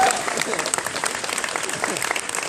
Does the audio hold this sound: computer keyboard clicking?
no